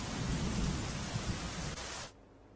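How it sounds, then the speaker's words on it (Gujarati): Heavy monsoon rain pouring steadily in Navsari with a deep rumble of thunder, a loud dense wash that cuts off abruptly near the end. "નવસારી શહેર અને જિલ્લામાં ધોધમાર વરસાદ વરસી રહ્યો છે"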